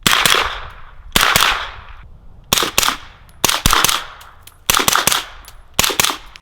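Suppressed 9mm subsonic rounds fired through a Dead Air Wolfman suppressor, heard as six or seven sharp, close cracks. Some come singly and some in quick pairs, with brief pauses between them and no talking.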